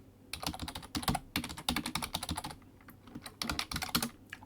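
Rapid computer keyboard typing in uneven bursts with brief pauses, close and clear, as a makefile target is entered during a C programming session; no talking.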